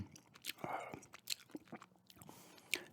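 Close, quiet gum chewing with wet smacks and soft crunchy bites in an irregular rhythm, intimate and up close, with no clear talking.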